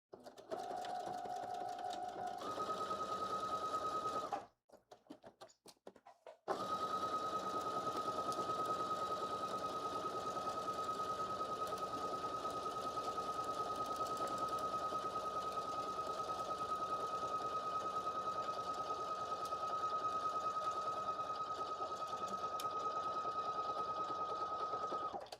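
A sewing machine stitches a blazer sleeve seam with a 5/8-inch allowance, humming close and steady for most of the stretch and broken by one short pause near the start.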